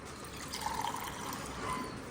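Cold drinking water poured into a bottle in a village kitchen, a steady trickling pour with a faint rising fill note, heard alone at close range over a soft background hiss.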